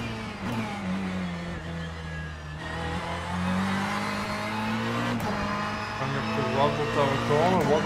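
A Ferrari 488 GTE race car in rFactor 2 accelerates hard around Sebring, its engine note climbing steadily through the gears with brief shift breaks, loud and close, while a driver talks over it.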